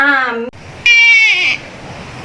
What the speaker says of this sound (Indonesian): suara adik bayi sedang menangis